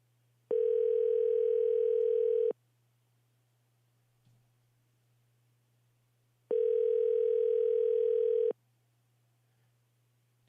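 A telephone ringback tone sounds twice while a call to Joe is being placed, two steady two-second buzzing rings separated by about four seconds of quiet line hum, clean and fairly quiet with no talking.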